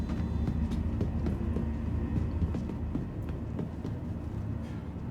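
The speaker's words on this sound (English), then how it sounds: "Now we want to take the train to the spaceport." Riding the Metro Loop train to the spaceport in the video game Star Citizen: a continuous low rumble with rattling carriage noise and faint rhythmic clicks, steady and fairly close throughout, with no speech.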